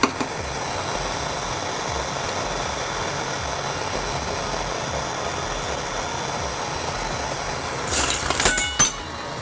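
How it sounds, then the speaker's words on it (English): A Nortel Mega Minor glassblowing torch burns with a steady, loud roaring hiss throughout, with a few brief clinks and rustles near the end as glass is worked in the flame. "So we're going to increase the size of the flame a little bit."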